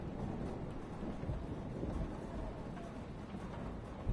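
A thunderstorm in a video game rumbles continuously with a dense, rain-like hiss, deep and steady, without voices.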